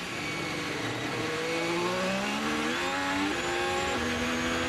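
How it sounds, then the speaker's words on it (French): A Formula 1 car at full acceleration down a straight during 2017 Australian Grand Prix qualifying, its engine note climbing in pitch through several gear changes, loud and continuous with no talk. "Verstappen en ligne droite, pleine accélération"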